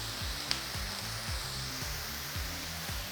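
Steak, green peppers and onions sizzle in avocado oil on a hot cooking surface, a steady faint hiss with a soft rhythmic low thumping beneath it.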